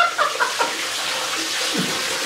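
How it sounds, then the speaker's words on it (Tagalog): Steady hiss of water running from an opened tap, continuous and fairly close, with a few brief faint voice-like sounds near the start. "Sige lang, buksan mo yung gripo."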